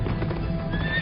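A black horse whinnies over a clip-clop of hooves in a short, loud burst, with no voices.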